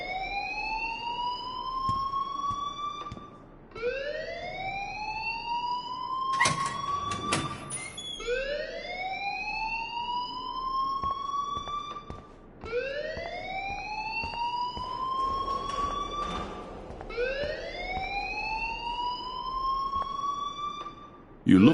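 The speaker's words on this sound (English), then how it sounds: "please turn off that alarm since that's your job" In the video game Life Is Strange, an alarm wails in rising sweeps that repeat about every four to five seconds, loud and continuous across the stretch.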